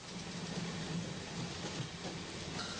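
A moving train rumbles steadily throughout, a continuous low clatter with a faint hiss of wind or rain over it, fairly close and unbroken by talk.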